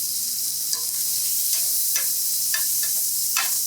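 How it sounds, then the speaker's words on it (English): Shrimp sear in a hot pan with a loud, steady sizzle and hiss. Scattered sharper crackles and spatula scrapes mark the shrimp being stirred around. "we're going to give it a very quick and light sear in a hot pan"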